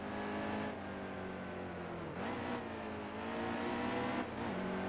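Stock car engine in NASCAR Heat 2, Xfinity Series, driven on throttle: a continuous droning whine that drops briefly and climbs again a few times with shifts, sustained and fairly loud, no voices over it.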